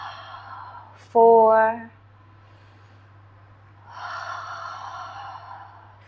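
Slow, deliberate breaths during a prenatal yoga stretch, with a soft exhale, a short voiced count, then a long, steady breathy exhale close to the microphone.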